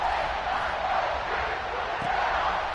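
Stadium crowd in the NCAA 26 college football video game ahead of a kickoff, a continuous broad roar of cheering that stays steady and fills the space, with no voices standing out.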